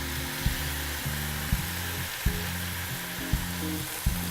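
Warm stock added ladle by ladle to a pan while stirring, a steady sizzle and bubbling underneath with soft scraping strokes repeating about every second, no talking.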